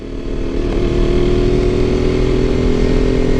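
A KTM RC 125 motorcycle fitted with a Radical Racing exhaust runs steadily at close range, its loud engine drone holding an even, continuous pitch throughout with no talking.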